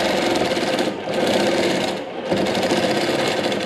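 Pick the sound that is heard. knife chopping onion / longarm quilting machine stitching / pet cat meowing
longarm quilting machine stitching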